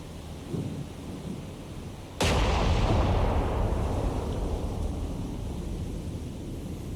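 Battleship main-battery salvo from the Japanese battleship Ise in the naval combat game War on the Sea: one sudden, heavy, close boom that rolls on into a long, thundering rumble with no voices.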